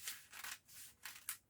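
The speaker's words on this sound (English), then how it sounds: "cutting through this paper" Dressmaking scissors snipping through paper in a few quick, close cuts, each a short crisp rasp in an uneven rhythm, heard alone at low volume.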